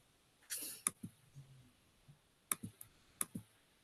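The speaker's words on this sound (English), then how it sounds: "Clicking back over here." Computer mouse clicking, a few sharp, close, isolated clicks spread apart with faint soft handling noises between them.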